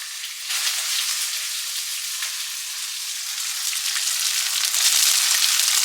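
Food fries in refined sunflower oil in a pan while being stirred with a spatula, a steady bright crackling sizzle that grows a little louder toward the end, with a few faint scrapes and no speech.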